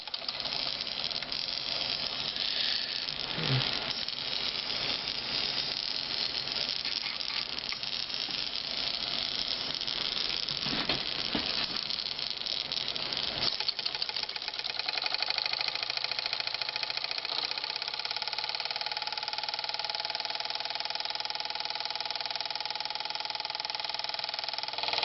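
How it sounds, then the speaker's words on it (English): A small steam engine drives a generator, producing a steady, continuous mechanical running sound with a rhythmic chuff and clatter that shifts in character about halfway through, close and fairly loud with no talking. "I will be running my generator with a new light."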